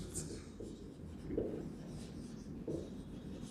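Chalk or marker scratching across a board during a Class 9 maths lesson on number systems, soft rubbing strokes running continuously and close by.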